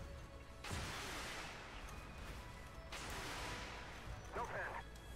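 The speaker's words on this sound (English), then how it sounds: "Oh wait, he's shooting missiles." Missile launches in the tank game Armored Warfare, two loud broad whooshing bursts with a sharper crackling burst at the end, over steady engine rumble.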